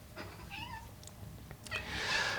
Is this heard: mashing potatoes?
no